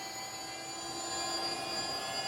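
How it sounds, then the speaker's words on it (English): A Losi Promoto-MX 1:4 scale RTR RC dirt bike whirs with a steady, high-pitched whine like a small jet engine, continuous and fairly close with no talking. "it sounds like a little jet engine going on there"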